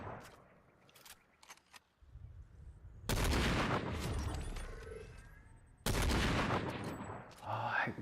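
Gunfire in a shooter video game: light clicks and small taps, then two loud, crackling bursts of shots, each trailing off in a long, rumbling decay, with a voice faintly present.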